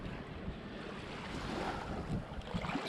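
Ocean surf washes steadily through a sand sifter at the beach, a broad continuous rush of water mixed with wind noise and no voices.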